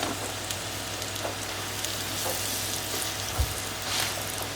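Food sizzles steadily in olive oil in a frying pan, a dense close crackle and hiss with occasional soft scrapes and knocks of stirring, continuous and without talk.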